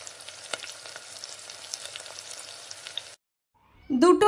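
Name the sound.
poppy seed fritters (posto bora) frying in oil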